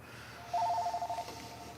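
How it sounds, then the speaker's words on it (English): A telephone rings once, a short warbling electronic tone lasting under a second in a quiet room, moderately close. "Somebody just calling and hanging up."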